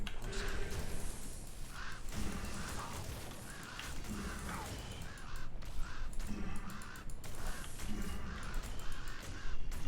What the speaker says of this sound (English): Look at these birds go, man.